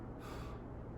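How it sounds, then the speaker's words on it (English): One sharp, deep breath drawn in through the mouth before a bench press, a short close gasp lasting under half a second and heard on its own. "Usually, I take a big breath right before,"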